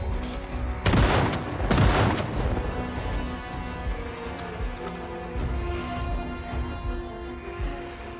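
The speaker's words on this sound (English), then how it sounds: "Shotgun opportunity here." Two loud, close shotgun blasts fired in quick succession in the zombie survival video game Project Zomboid, each a sharp boom with a ringing tail, followed by a low murmuring game background.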